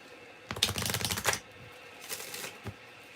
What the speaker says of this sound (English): Only because I feel like I'm shuffling like two pieces of paper.